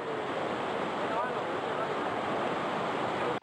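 The flooded Cali river rushes past in a steady, dense roar of churning water, loud and unbroken for a few seconds before cutting off abruptly.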